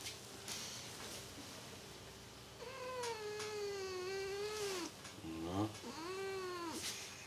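A cat meows in several long, drawn-out wails, close and loud, one after another with short gaps, over a faint background hum.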